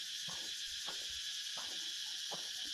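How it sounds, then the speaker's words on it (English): Dense, loud drone of insects at the Angkor Wat temples, a steady high buzzing chorus filling the air without pause, with a few faint low knocks beneath it. "how many of those insects are up there? Whoa, they are loud."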